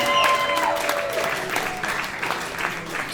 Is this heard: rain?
no